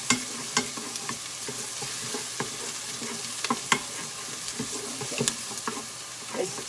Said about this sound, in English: I'm just going to stir this and kind of get this so it doesn't want to stick to the bottom.